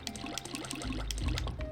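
Water pouring in the Graveyard Keeper video game, a low rushing fill that grows fuller partway through, with faint game chimes and clicks scattered above it.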